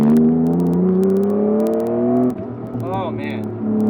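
A car engine with far more low-rev torque than its stock motor pulls hard out of a corner, a steady close drone rising slowly in pitch, with a person talking over it.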